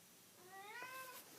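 A pet cat gives a single drawn-out meow indoors, close and moderately quiet, with no voices.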